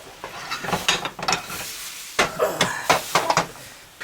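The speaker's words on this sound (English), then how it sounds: "Move our sausage back over here so we can get it finished" A sausage frying in a pan and being pushed across it, close crackling sizzle with repeated scraping stir strokes in uneven bursts.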